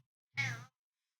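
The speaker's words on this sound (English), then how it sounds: "Grayson, sir, now is not the time for your meow meows" A single short, clear meow from Grayson the cat, close to the microphone in a quiet room, with no talking over it.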